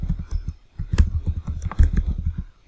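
A computer keyboard clatters with a quick run of uneven keystrokes while a password is entered, close and crisp with a couple of heavier taps standing out.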